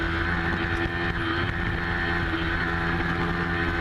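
Amateur SV 650 race motorcycles at Gateway Motorsports Park during a racetrack event, a steady, loud engine drone with wind rush, several bikes blending into one continuous roar without distinct passes.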